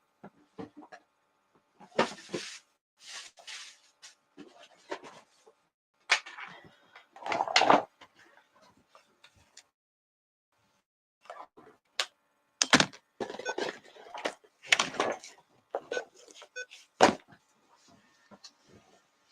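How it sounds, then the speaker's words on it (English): A wooden drawer of herbs is shifted and set down indoors, giving scattered knocks, thunks and scraping clatter in separate bursts with quiet gaps between them. "to bring my drawer over"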